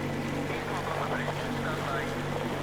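A boat engine drones steadily on the water in Metro Exodus Sam's Story, a low continuous rumble with wind and splashing, while voices talk over it.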